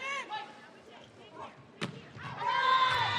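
A volleyball spike by a player in a LOVB match for Omaha lands as a single sharp slap of hand on ball, heard under an excited commentator's voice and the rising roar of an arena crowd.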